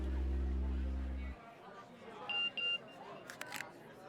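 A phone message notification in a CID episode, two short high electronic beeps in quick succession after a low rumbling tone cuts off, followed by a brief sharper chirp, fairly faint.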